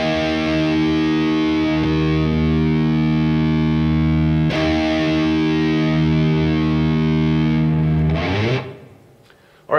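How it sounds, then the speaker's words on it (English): A distorted electric guitar's low E string tuned a half step down, struck twice and left ringing as a thick, heavy drone with a metal-style tone, then fading out near the end. "So I'm going to play you my low E string while you're checking out the picture of the preset so you can tune up"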